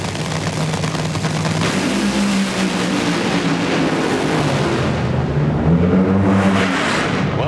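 NHRA drag racing car blasting down the track during 2001 AutoZone Nationals qualifying, a loud, continuous, harsh engine roar that holds steady throughout, with no talk over it.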